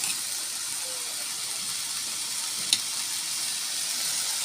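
Okra and corn sautéing in a pan, a steady broadband sizzle that holds evenly throughout, with one brief sharper pop near the end.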